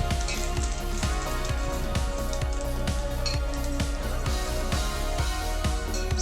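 Onion fries in a pan as the base for a chicken masala fry, a constant sizzle broken by a regular run of soft, close-up stirring knocks and crackles, with no talking.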